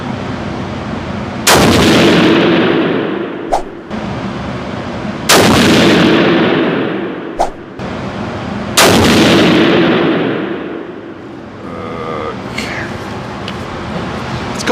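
Three loud rifle shots from a cold-bore three-shot test with Hornady ammunition, spaced several seconds apart, each a sharp crack with a long rolling echo. Outdoor noise fills the gaps, and a faint voice comes near the end.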